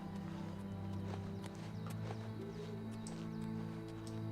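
Horse from the video game Oblivion Remastered, hooves clip-clopping steadily as it moves off, with a sustained tonal game backdrop underneath throughout.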